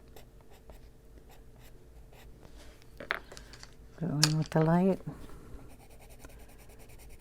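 Colored pencil number 38 shades on paper with soft, steady scratchy strokes under a quiet voice. The pressure gets heavier as the shading goes on.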